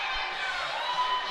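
Excited crowd at a youth bantam ice hockey game in an arena just after a goal, a steady wash of cheering and shouting voices with some children's yells, continuous and fairly loud throughout.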